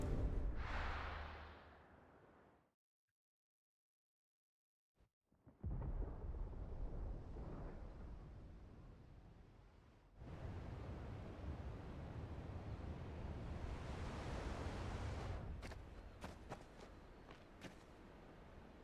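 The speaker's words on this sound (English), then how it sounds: "Sounds like thunder." A thunder rumble in the Final Fantasy 16 video game: a loud, broad roll of rumbling noise that fades out, breaks into a short silence, then swells into a long, sustained rumble with scattered crackles near the end.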